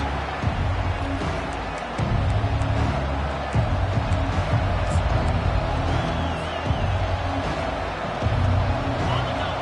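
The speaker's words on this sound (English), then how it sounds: "this crowd is fired up. Listen to this noise here." A dense, roaring college football stadium crowd at Navy vs LSU cheering continuously, loud and steady, with a commentator's voice running over it.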